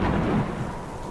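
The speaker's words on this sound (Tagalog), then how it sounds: "Napakalakas kasi ng ulan." Heavy rainstorm with thunder, a continuous dense roar of rain and low rumble filling the whole moment, steady and loud with no voices.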